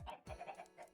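Chickens in Minecraft cluck in a quick run of short blocky calls, quiet and close, with no talking.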